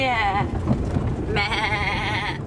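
Sheep bleat close by in two drawn-out, wavering calls with a short gap between them, heard by a Scottish loch with low background rumble and wind.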